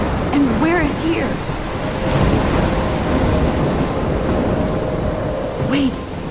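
A thunderstorm in the video game Life is Strange, with heavy steady rain and deep rumbling thunder filling the scene loud and close, while a voice briefly cuts in a few times over it.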